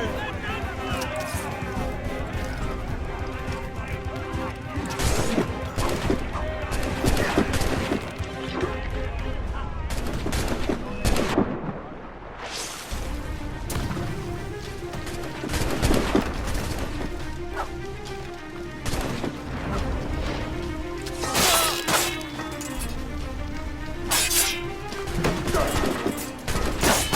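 Enemy ships firing cannons during a naval battle in Assassin's Creed Rogue: repeated booming shots and crashing impacts amid busy battle noise, with voices shouting over the din.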